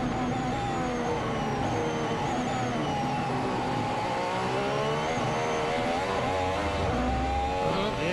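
Charles Leclerc's Ferrari Formula 1 car accelerates on a qualifying lap at the 2019 Canadian Grand Prix, its high-pitched engine climbing through the revs, loud and sustained for several seconds.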